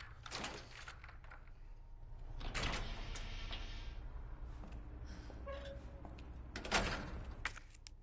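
Doors in Resident Evil 2 sliding and thudding shut in a few separate bursts at moderate distance, with a low steady hum underneath and no voices.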